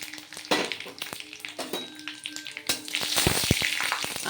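Bay leaf and dried chillies crackle and sizzle in hot oil, with sharp pops and taps of a utensil against the pan, then a louder, denser frying hiss toward the end.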